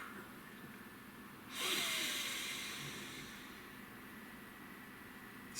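A single deep exhale through the mouth during a guided breathing moment, a soft airy rush that swells and then slowly fades, close to the mic and alone over faint room hiss.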